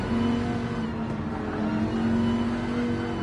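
Onboard engine of a Dodge race car in a racing video game, a loud, steady, buzzing roar that holds a sustained pitch throughout.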